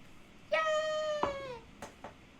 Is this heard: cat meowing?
yes